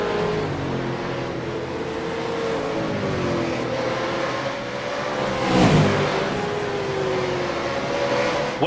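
Supercars race cars scream to the finish of a race at Sonoma. Their engines whine continuously at high revs, and one car sweeps close by midway with a rising and falling pass-by roar.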